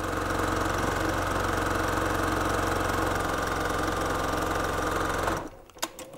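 A Baby Lock Jane sewing machine runs at high speed, stitching a pant leg hem in a loud, steady whir for about five seconds before stopping, followed by a few faint clicks.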